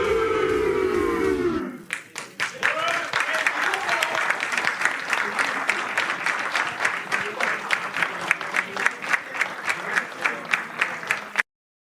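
A large hall audience at a 24-hour Téléthon charity event cheers and makes noise, then breaks into steady, loud applause with rhythmic clapping that carries on for about ten seconds before cutting off.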